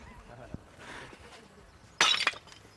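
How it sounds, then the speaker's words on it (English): Ceramic tiles meant for a designer bathroom are smashed, a sharp crash and clatter of breaking pieces arriving abruptly after quieter background sounds. "Russell is now reduced to smashing up the tiles, which were destined for his designer bathroom"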